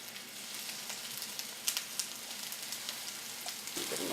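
Turkey burgers fry in oil in a pan, giving a steady, soft sizzle with scattered crackles and pops throughout and no voices.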